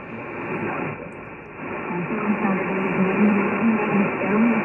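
A Drake SW8 or Grundig 800 shortwave receiver plays through its loudspeaker, giving a steady, band-limited broadcast with a faint voice-like tone and a constant noise floor. No one talks over it.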